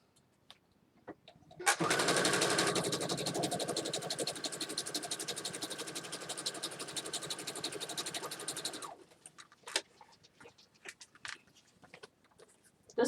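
A sewing machine runs a zigzag stitch across a journal page made from a hanging file folder, a close, loud rapid mechanical whirring for about seven seconds, followed by scattered clicks and handling sounds.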